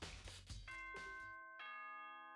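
Two-note ding-dong doorbell chime from the Danganronpa video game, ringing out clearly with long sustained tones after a burst of busy game sound.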